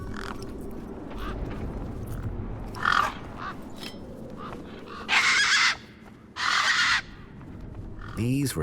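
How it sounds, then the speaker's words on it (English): Harsh, raspy squawks from tough desert birds in the video game Beyond a Steel Sky, several loud cries in bursts over a steady background hum, without speech. "These were tough desert birds."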